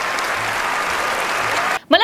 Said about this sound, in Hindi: भाई जोरदार तालियां बनती है बुमराह के लिए